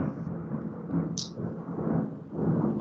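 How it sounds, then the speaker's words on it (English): Thunderstorm with a rain shower outdoors: low continuous rumbling thunder and steady rain wash, moderately loud, with a brief high chirp partway through. "Yeah, Thunderstorm. there's a shower going on outside."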